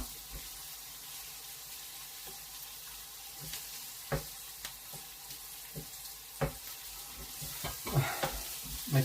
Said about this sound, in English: I'm just going to cook the garlic first, the onions and garlic,